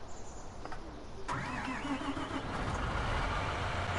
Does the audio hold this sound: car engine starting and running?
yes